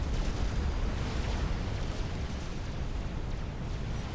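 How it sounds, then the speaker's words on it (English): A nuke striking cliffs in a 4v4 custom Supreme Commander match on Setons, heard as a dense, sustained roaring rumble of explosion noise, loud and unbroken throughout, with no voices. "Carlitos hits the cliffs with his nuke."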